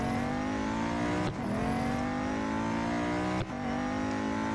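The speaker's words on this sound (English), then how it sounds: "Oh, sliding all over the place with this car." A race car in Real Racing 3 holds a steady, high engine drone while sliding, its pitch dropping sharply twice as gears shift and then climbing again, loud and continuous with no talk.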